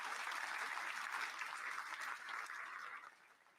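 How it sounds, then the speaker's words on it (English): Audience at a semipro football event claps in a steady round of applause, faint and distant, gradually thinning out toward the end. "Let's give them a round of applause."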